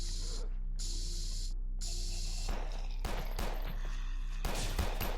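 Gunfire in the multiplayer game Space Station 14 as the remaining crew pushes an attacker: a sustained mix of shots and bursts under a constant background hum, with sharper cracks toward the end.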